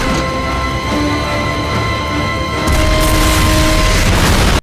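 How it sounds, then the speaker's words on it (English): Explosion in the 2010 action film The Expendables: a loud, dense blast with a sharp surge partway through, then a sustained roar of crashing, booming debris until the end. "his head just exploded"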